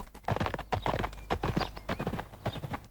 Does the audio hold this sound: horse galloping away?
yes